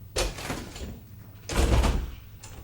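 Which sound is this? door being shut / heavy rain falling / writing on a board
door being shut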